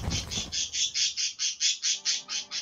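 Cecil, a pet bird, squawks repeatedly in a steady, evenly spaced series of loud, harsh, close calls, with a faint tonal background entering near the end.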